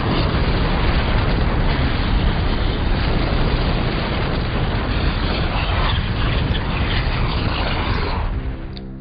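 Broadband rumbling roar of the Mount Tarawera volcanic eruption with thunder, loud and continuous, dense low booms filling the whole span before easing slightly at the end.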